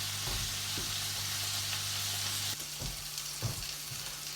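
Fish fillets frying gently in a pan, a steady close sizzle and crackle running throughout with a few soft knocks and pops near the end, no voices.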